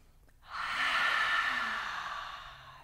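After a quiet start, one deep audible breath swells up close, a long airy rush that holds steady and then gradually tapers off.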